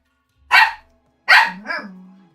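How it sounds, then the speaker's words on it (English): A pet dog barks twice, close by and fairly loud, the second bark trailing into a brief whine or growl. "Sorry about my doggy."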